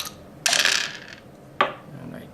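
Three dice tumbling in a board game, two bright rattling bursts with the first longer clatter and a second shorter roll, close and fairly loud.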